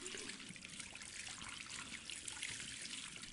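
Tap water runs in the video game Portrait Of Torn, a steady faint hiss and trickle that holds even and continuous throughout, with no voices.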